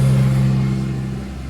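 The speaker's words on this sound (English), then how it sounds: "Sorry about the road noise." Road traffic passing nearby, a loud steady engine rumble of a vehicle going by that fades slightly over a second and a half, with no talking.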